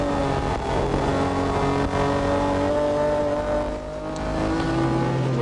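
Onboard a BMW touring car racing in the 1981 Bathurst 1000, the engine drones loud and steady with sustained revving harmonics that rise and hold, close and continuous throughout with no talk.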